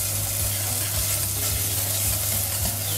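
Breadfruit migan sauce with Colombo paste stirred in a cooking pot, a close, continuous sizzle with rhythmic scraping pulses of the spoon about every half second over a low steady hum.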